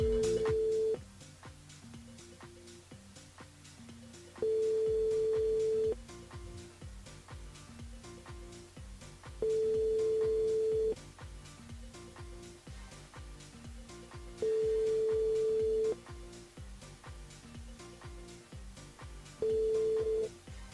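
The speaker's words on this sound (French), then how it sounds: "Nous sommes sur le standard, on appelle Isabelle du côté de la Saline" A telephone line dials out for a live call-in on a French-language radio show, giving repeated long ringback tones spaced evenly over a steady background, with no talking.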